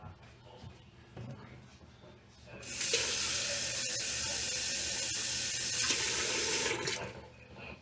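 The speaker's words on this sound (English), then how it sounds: "We're going to add some water to the pan." Tap water runs steadily into a cooking pan on a home stovetop, a broad hiss that starts abruptly and holds loud for about four seconds before cutting off, with quieter kitchen noise on either side.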